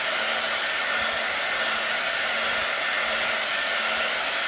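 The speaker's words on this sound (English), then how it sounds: "You get the fun hair drying part." A hair dryer blows steadily on a chalk transfer, a loud, even rushing whoosh with a faint motor hum that holds unbroken from start to finish, with no voices.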